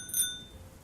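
An old bicycle bell gives a single bright ding that rings briefly and fades quickly, faint over a quiet rumbling background.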